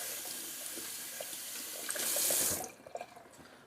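Tap water runs steadily into a sink while a shaving brush is rinsed, a close hiss that swells briefly then cuts off, leaving a few faint drips and clicks.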